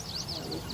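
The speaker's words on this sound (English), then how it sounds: "that's like the red-winged blackbird" A red-winged blackbird calls outdoors by Mono Lake with faint, repeated high chirps in the distance. People are talking quietly over the calls.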